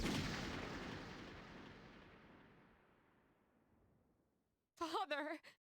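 Gunshot in the video game Persona 3 Portable: a loud booming blast that rolls away in a long fading reverberant tail, then a short stretch of voice after it dies out.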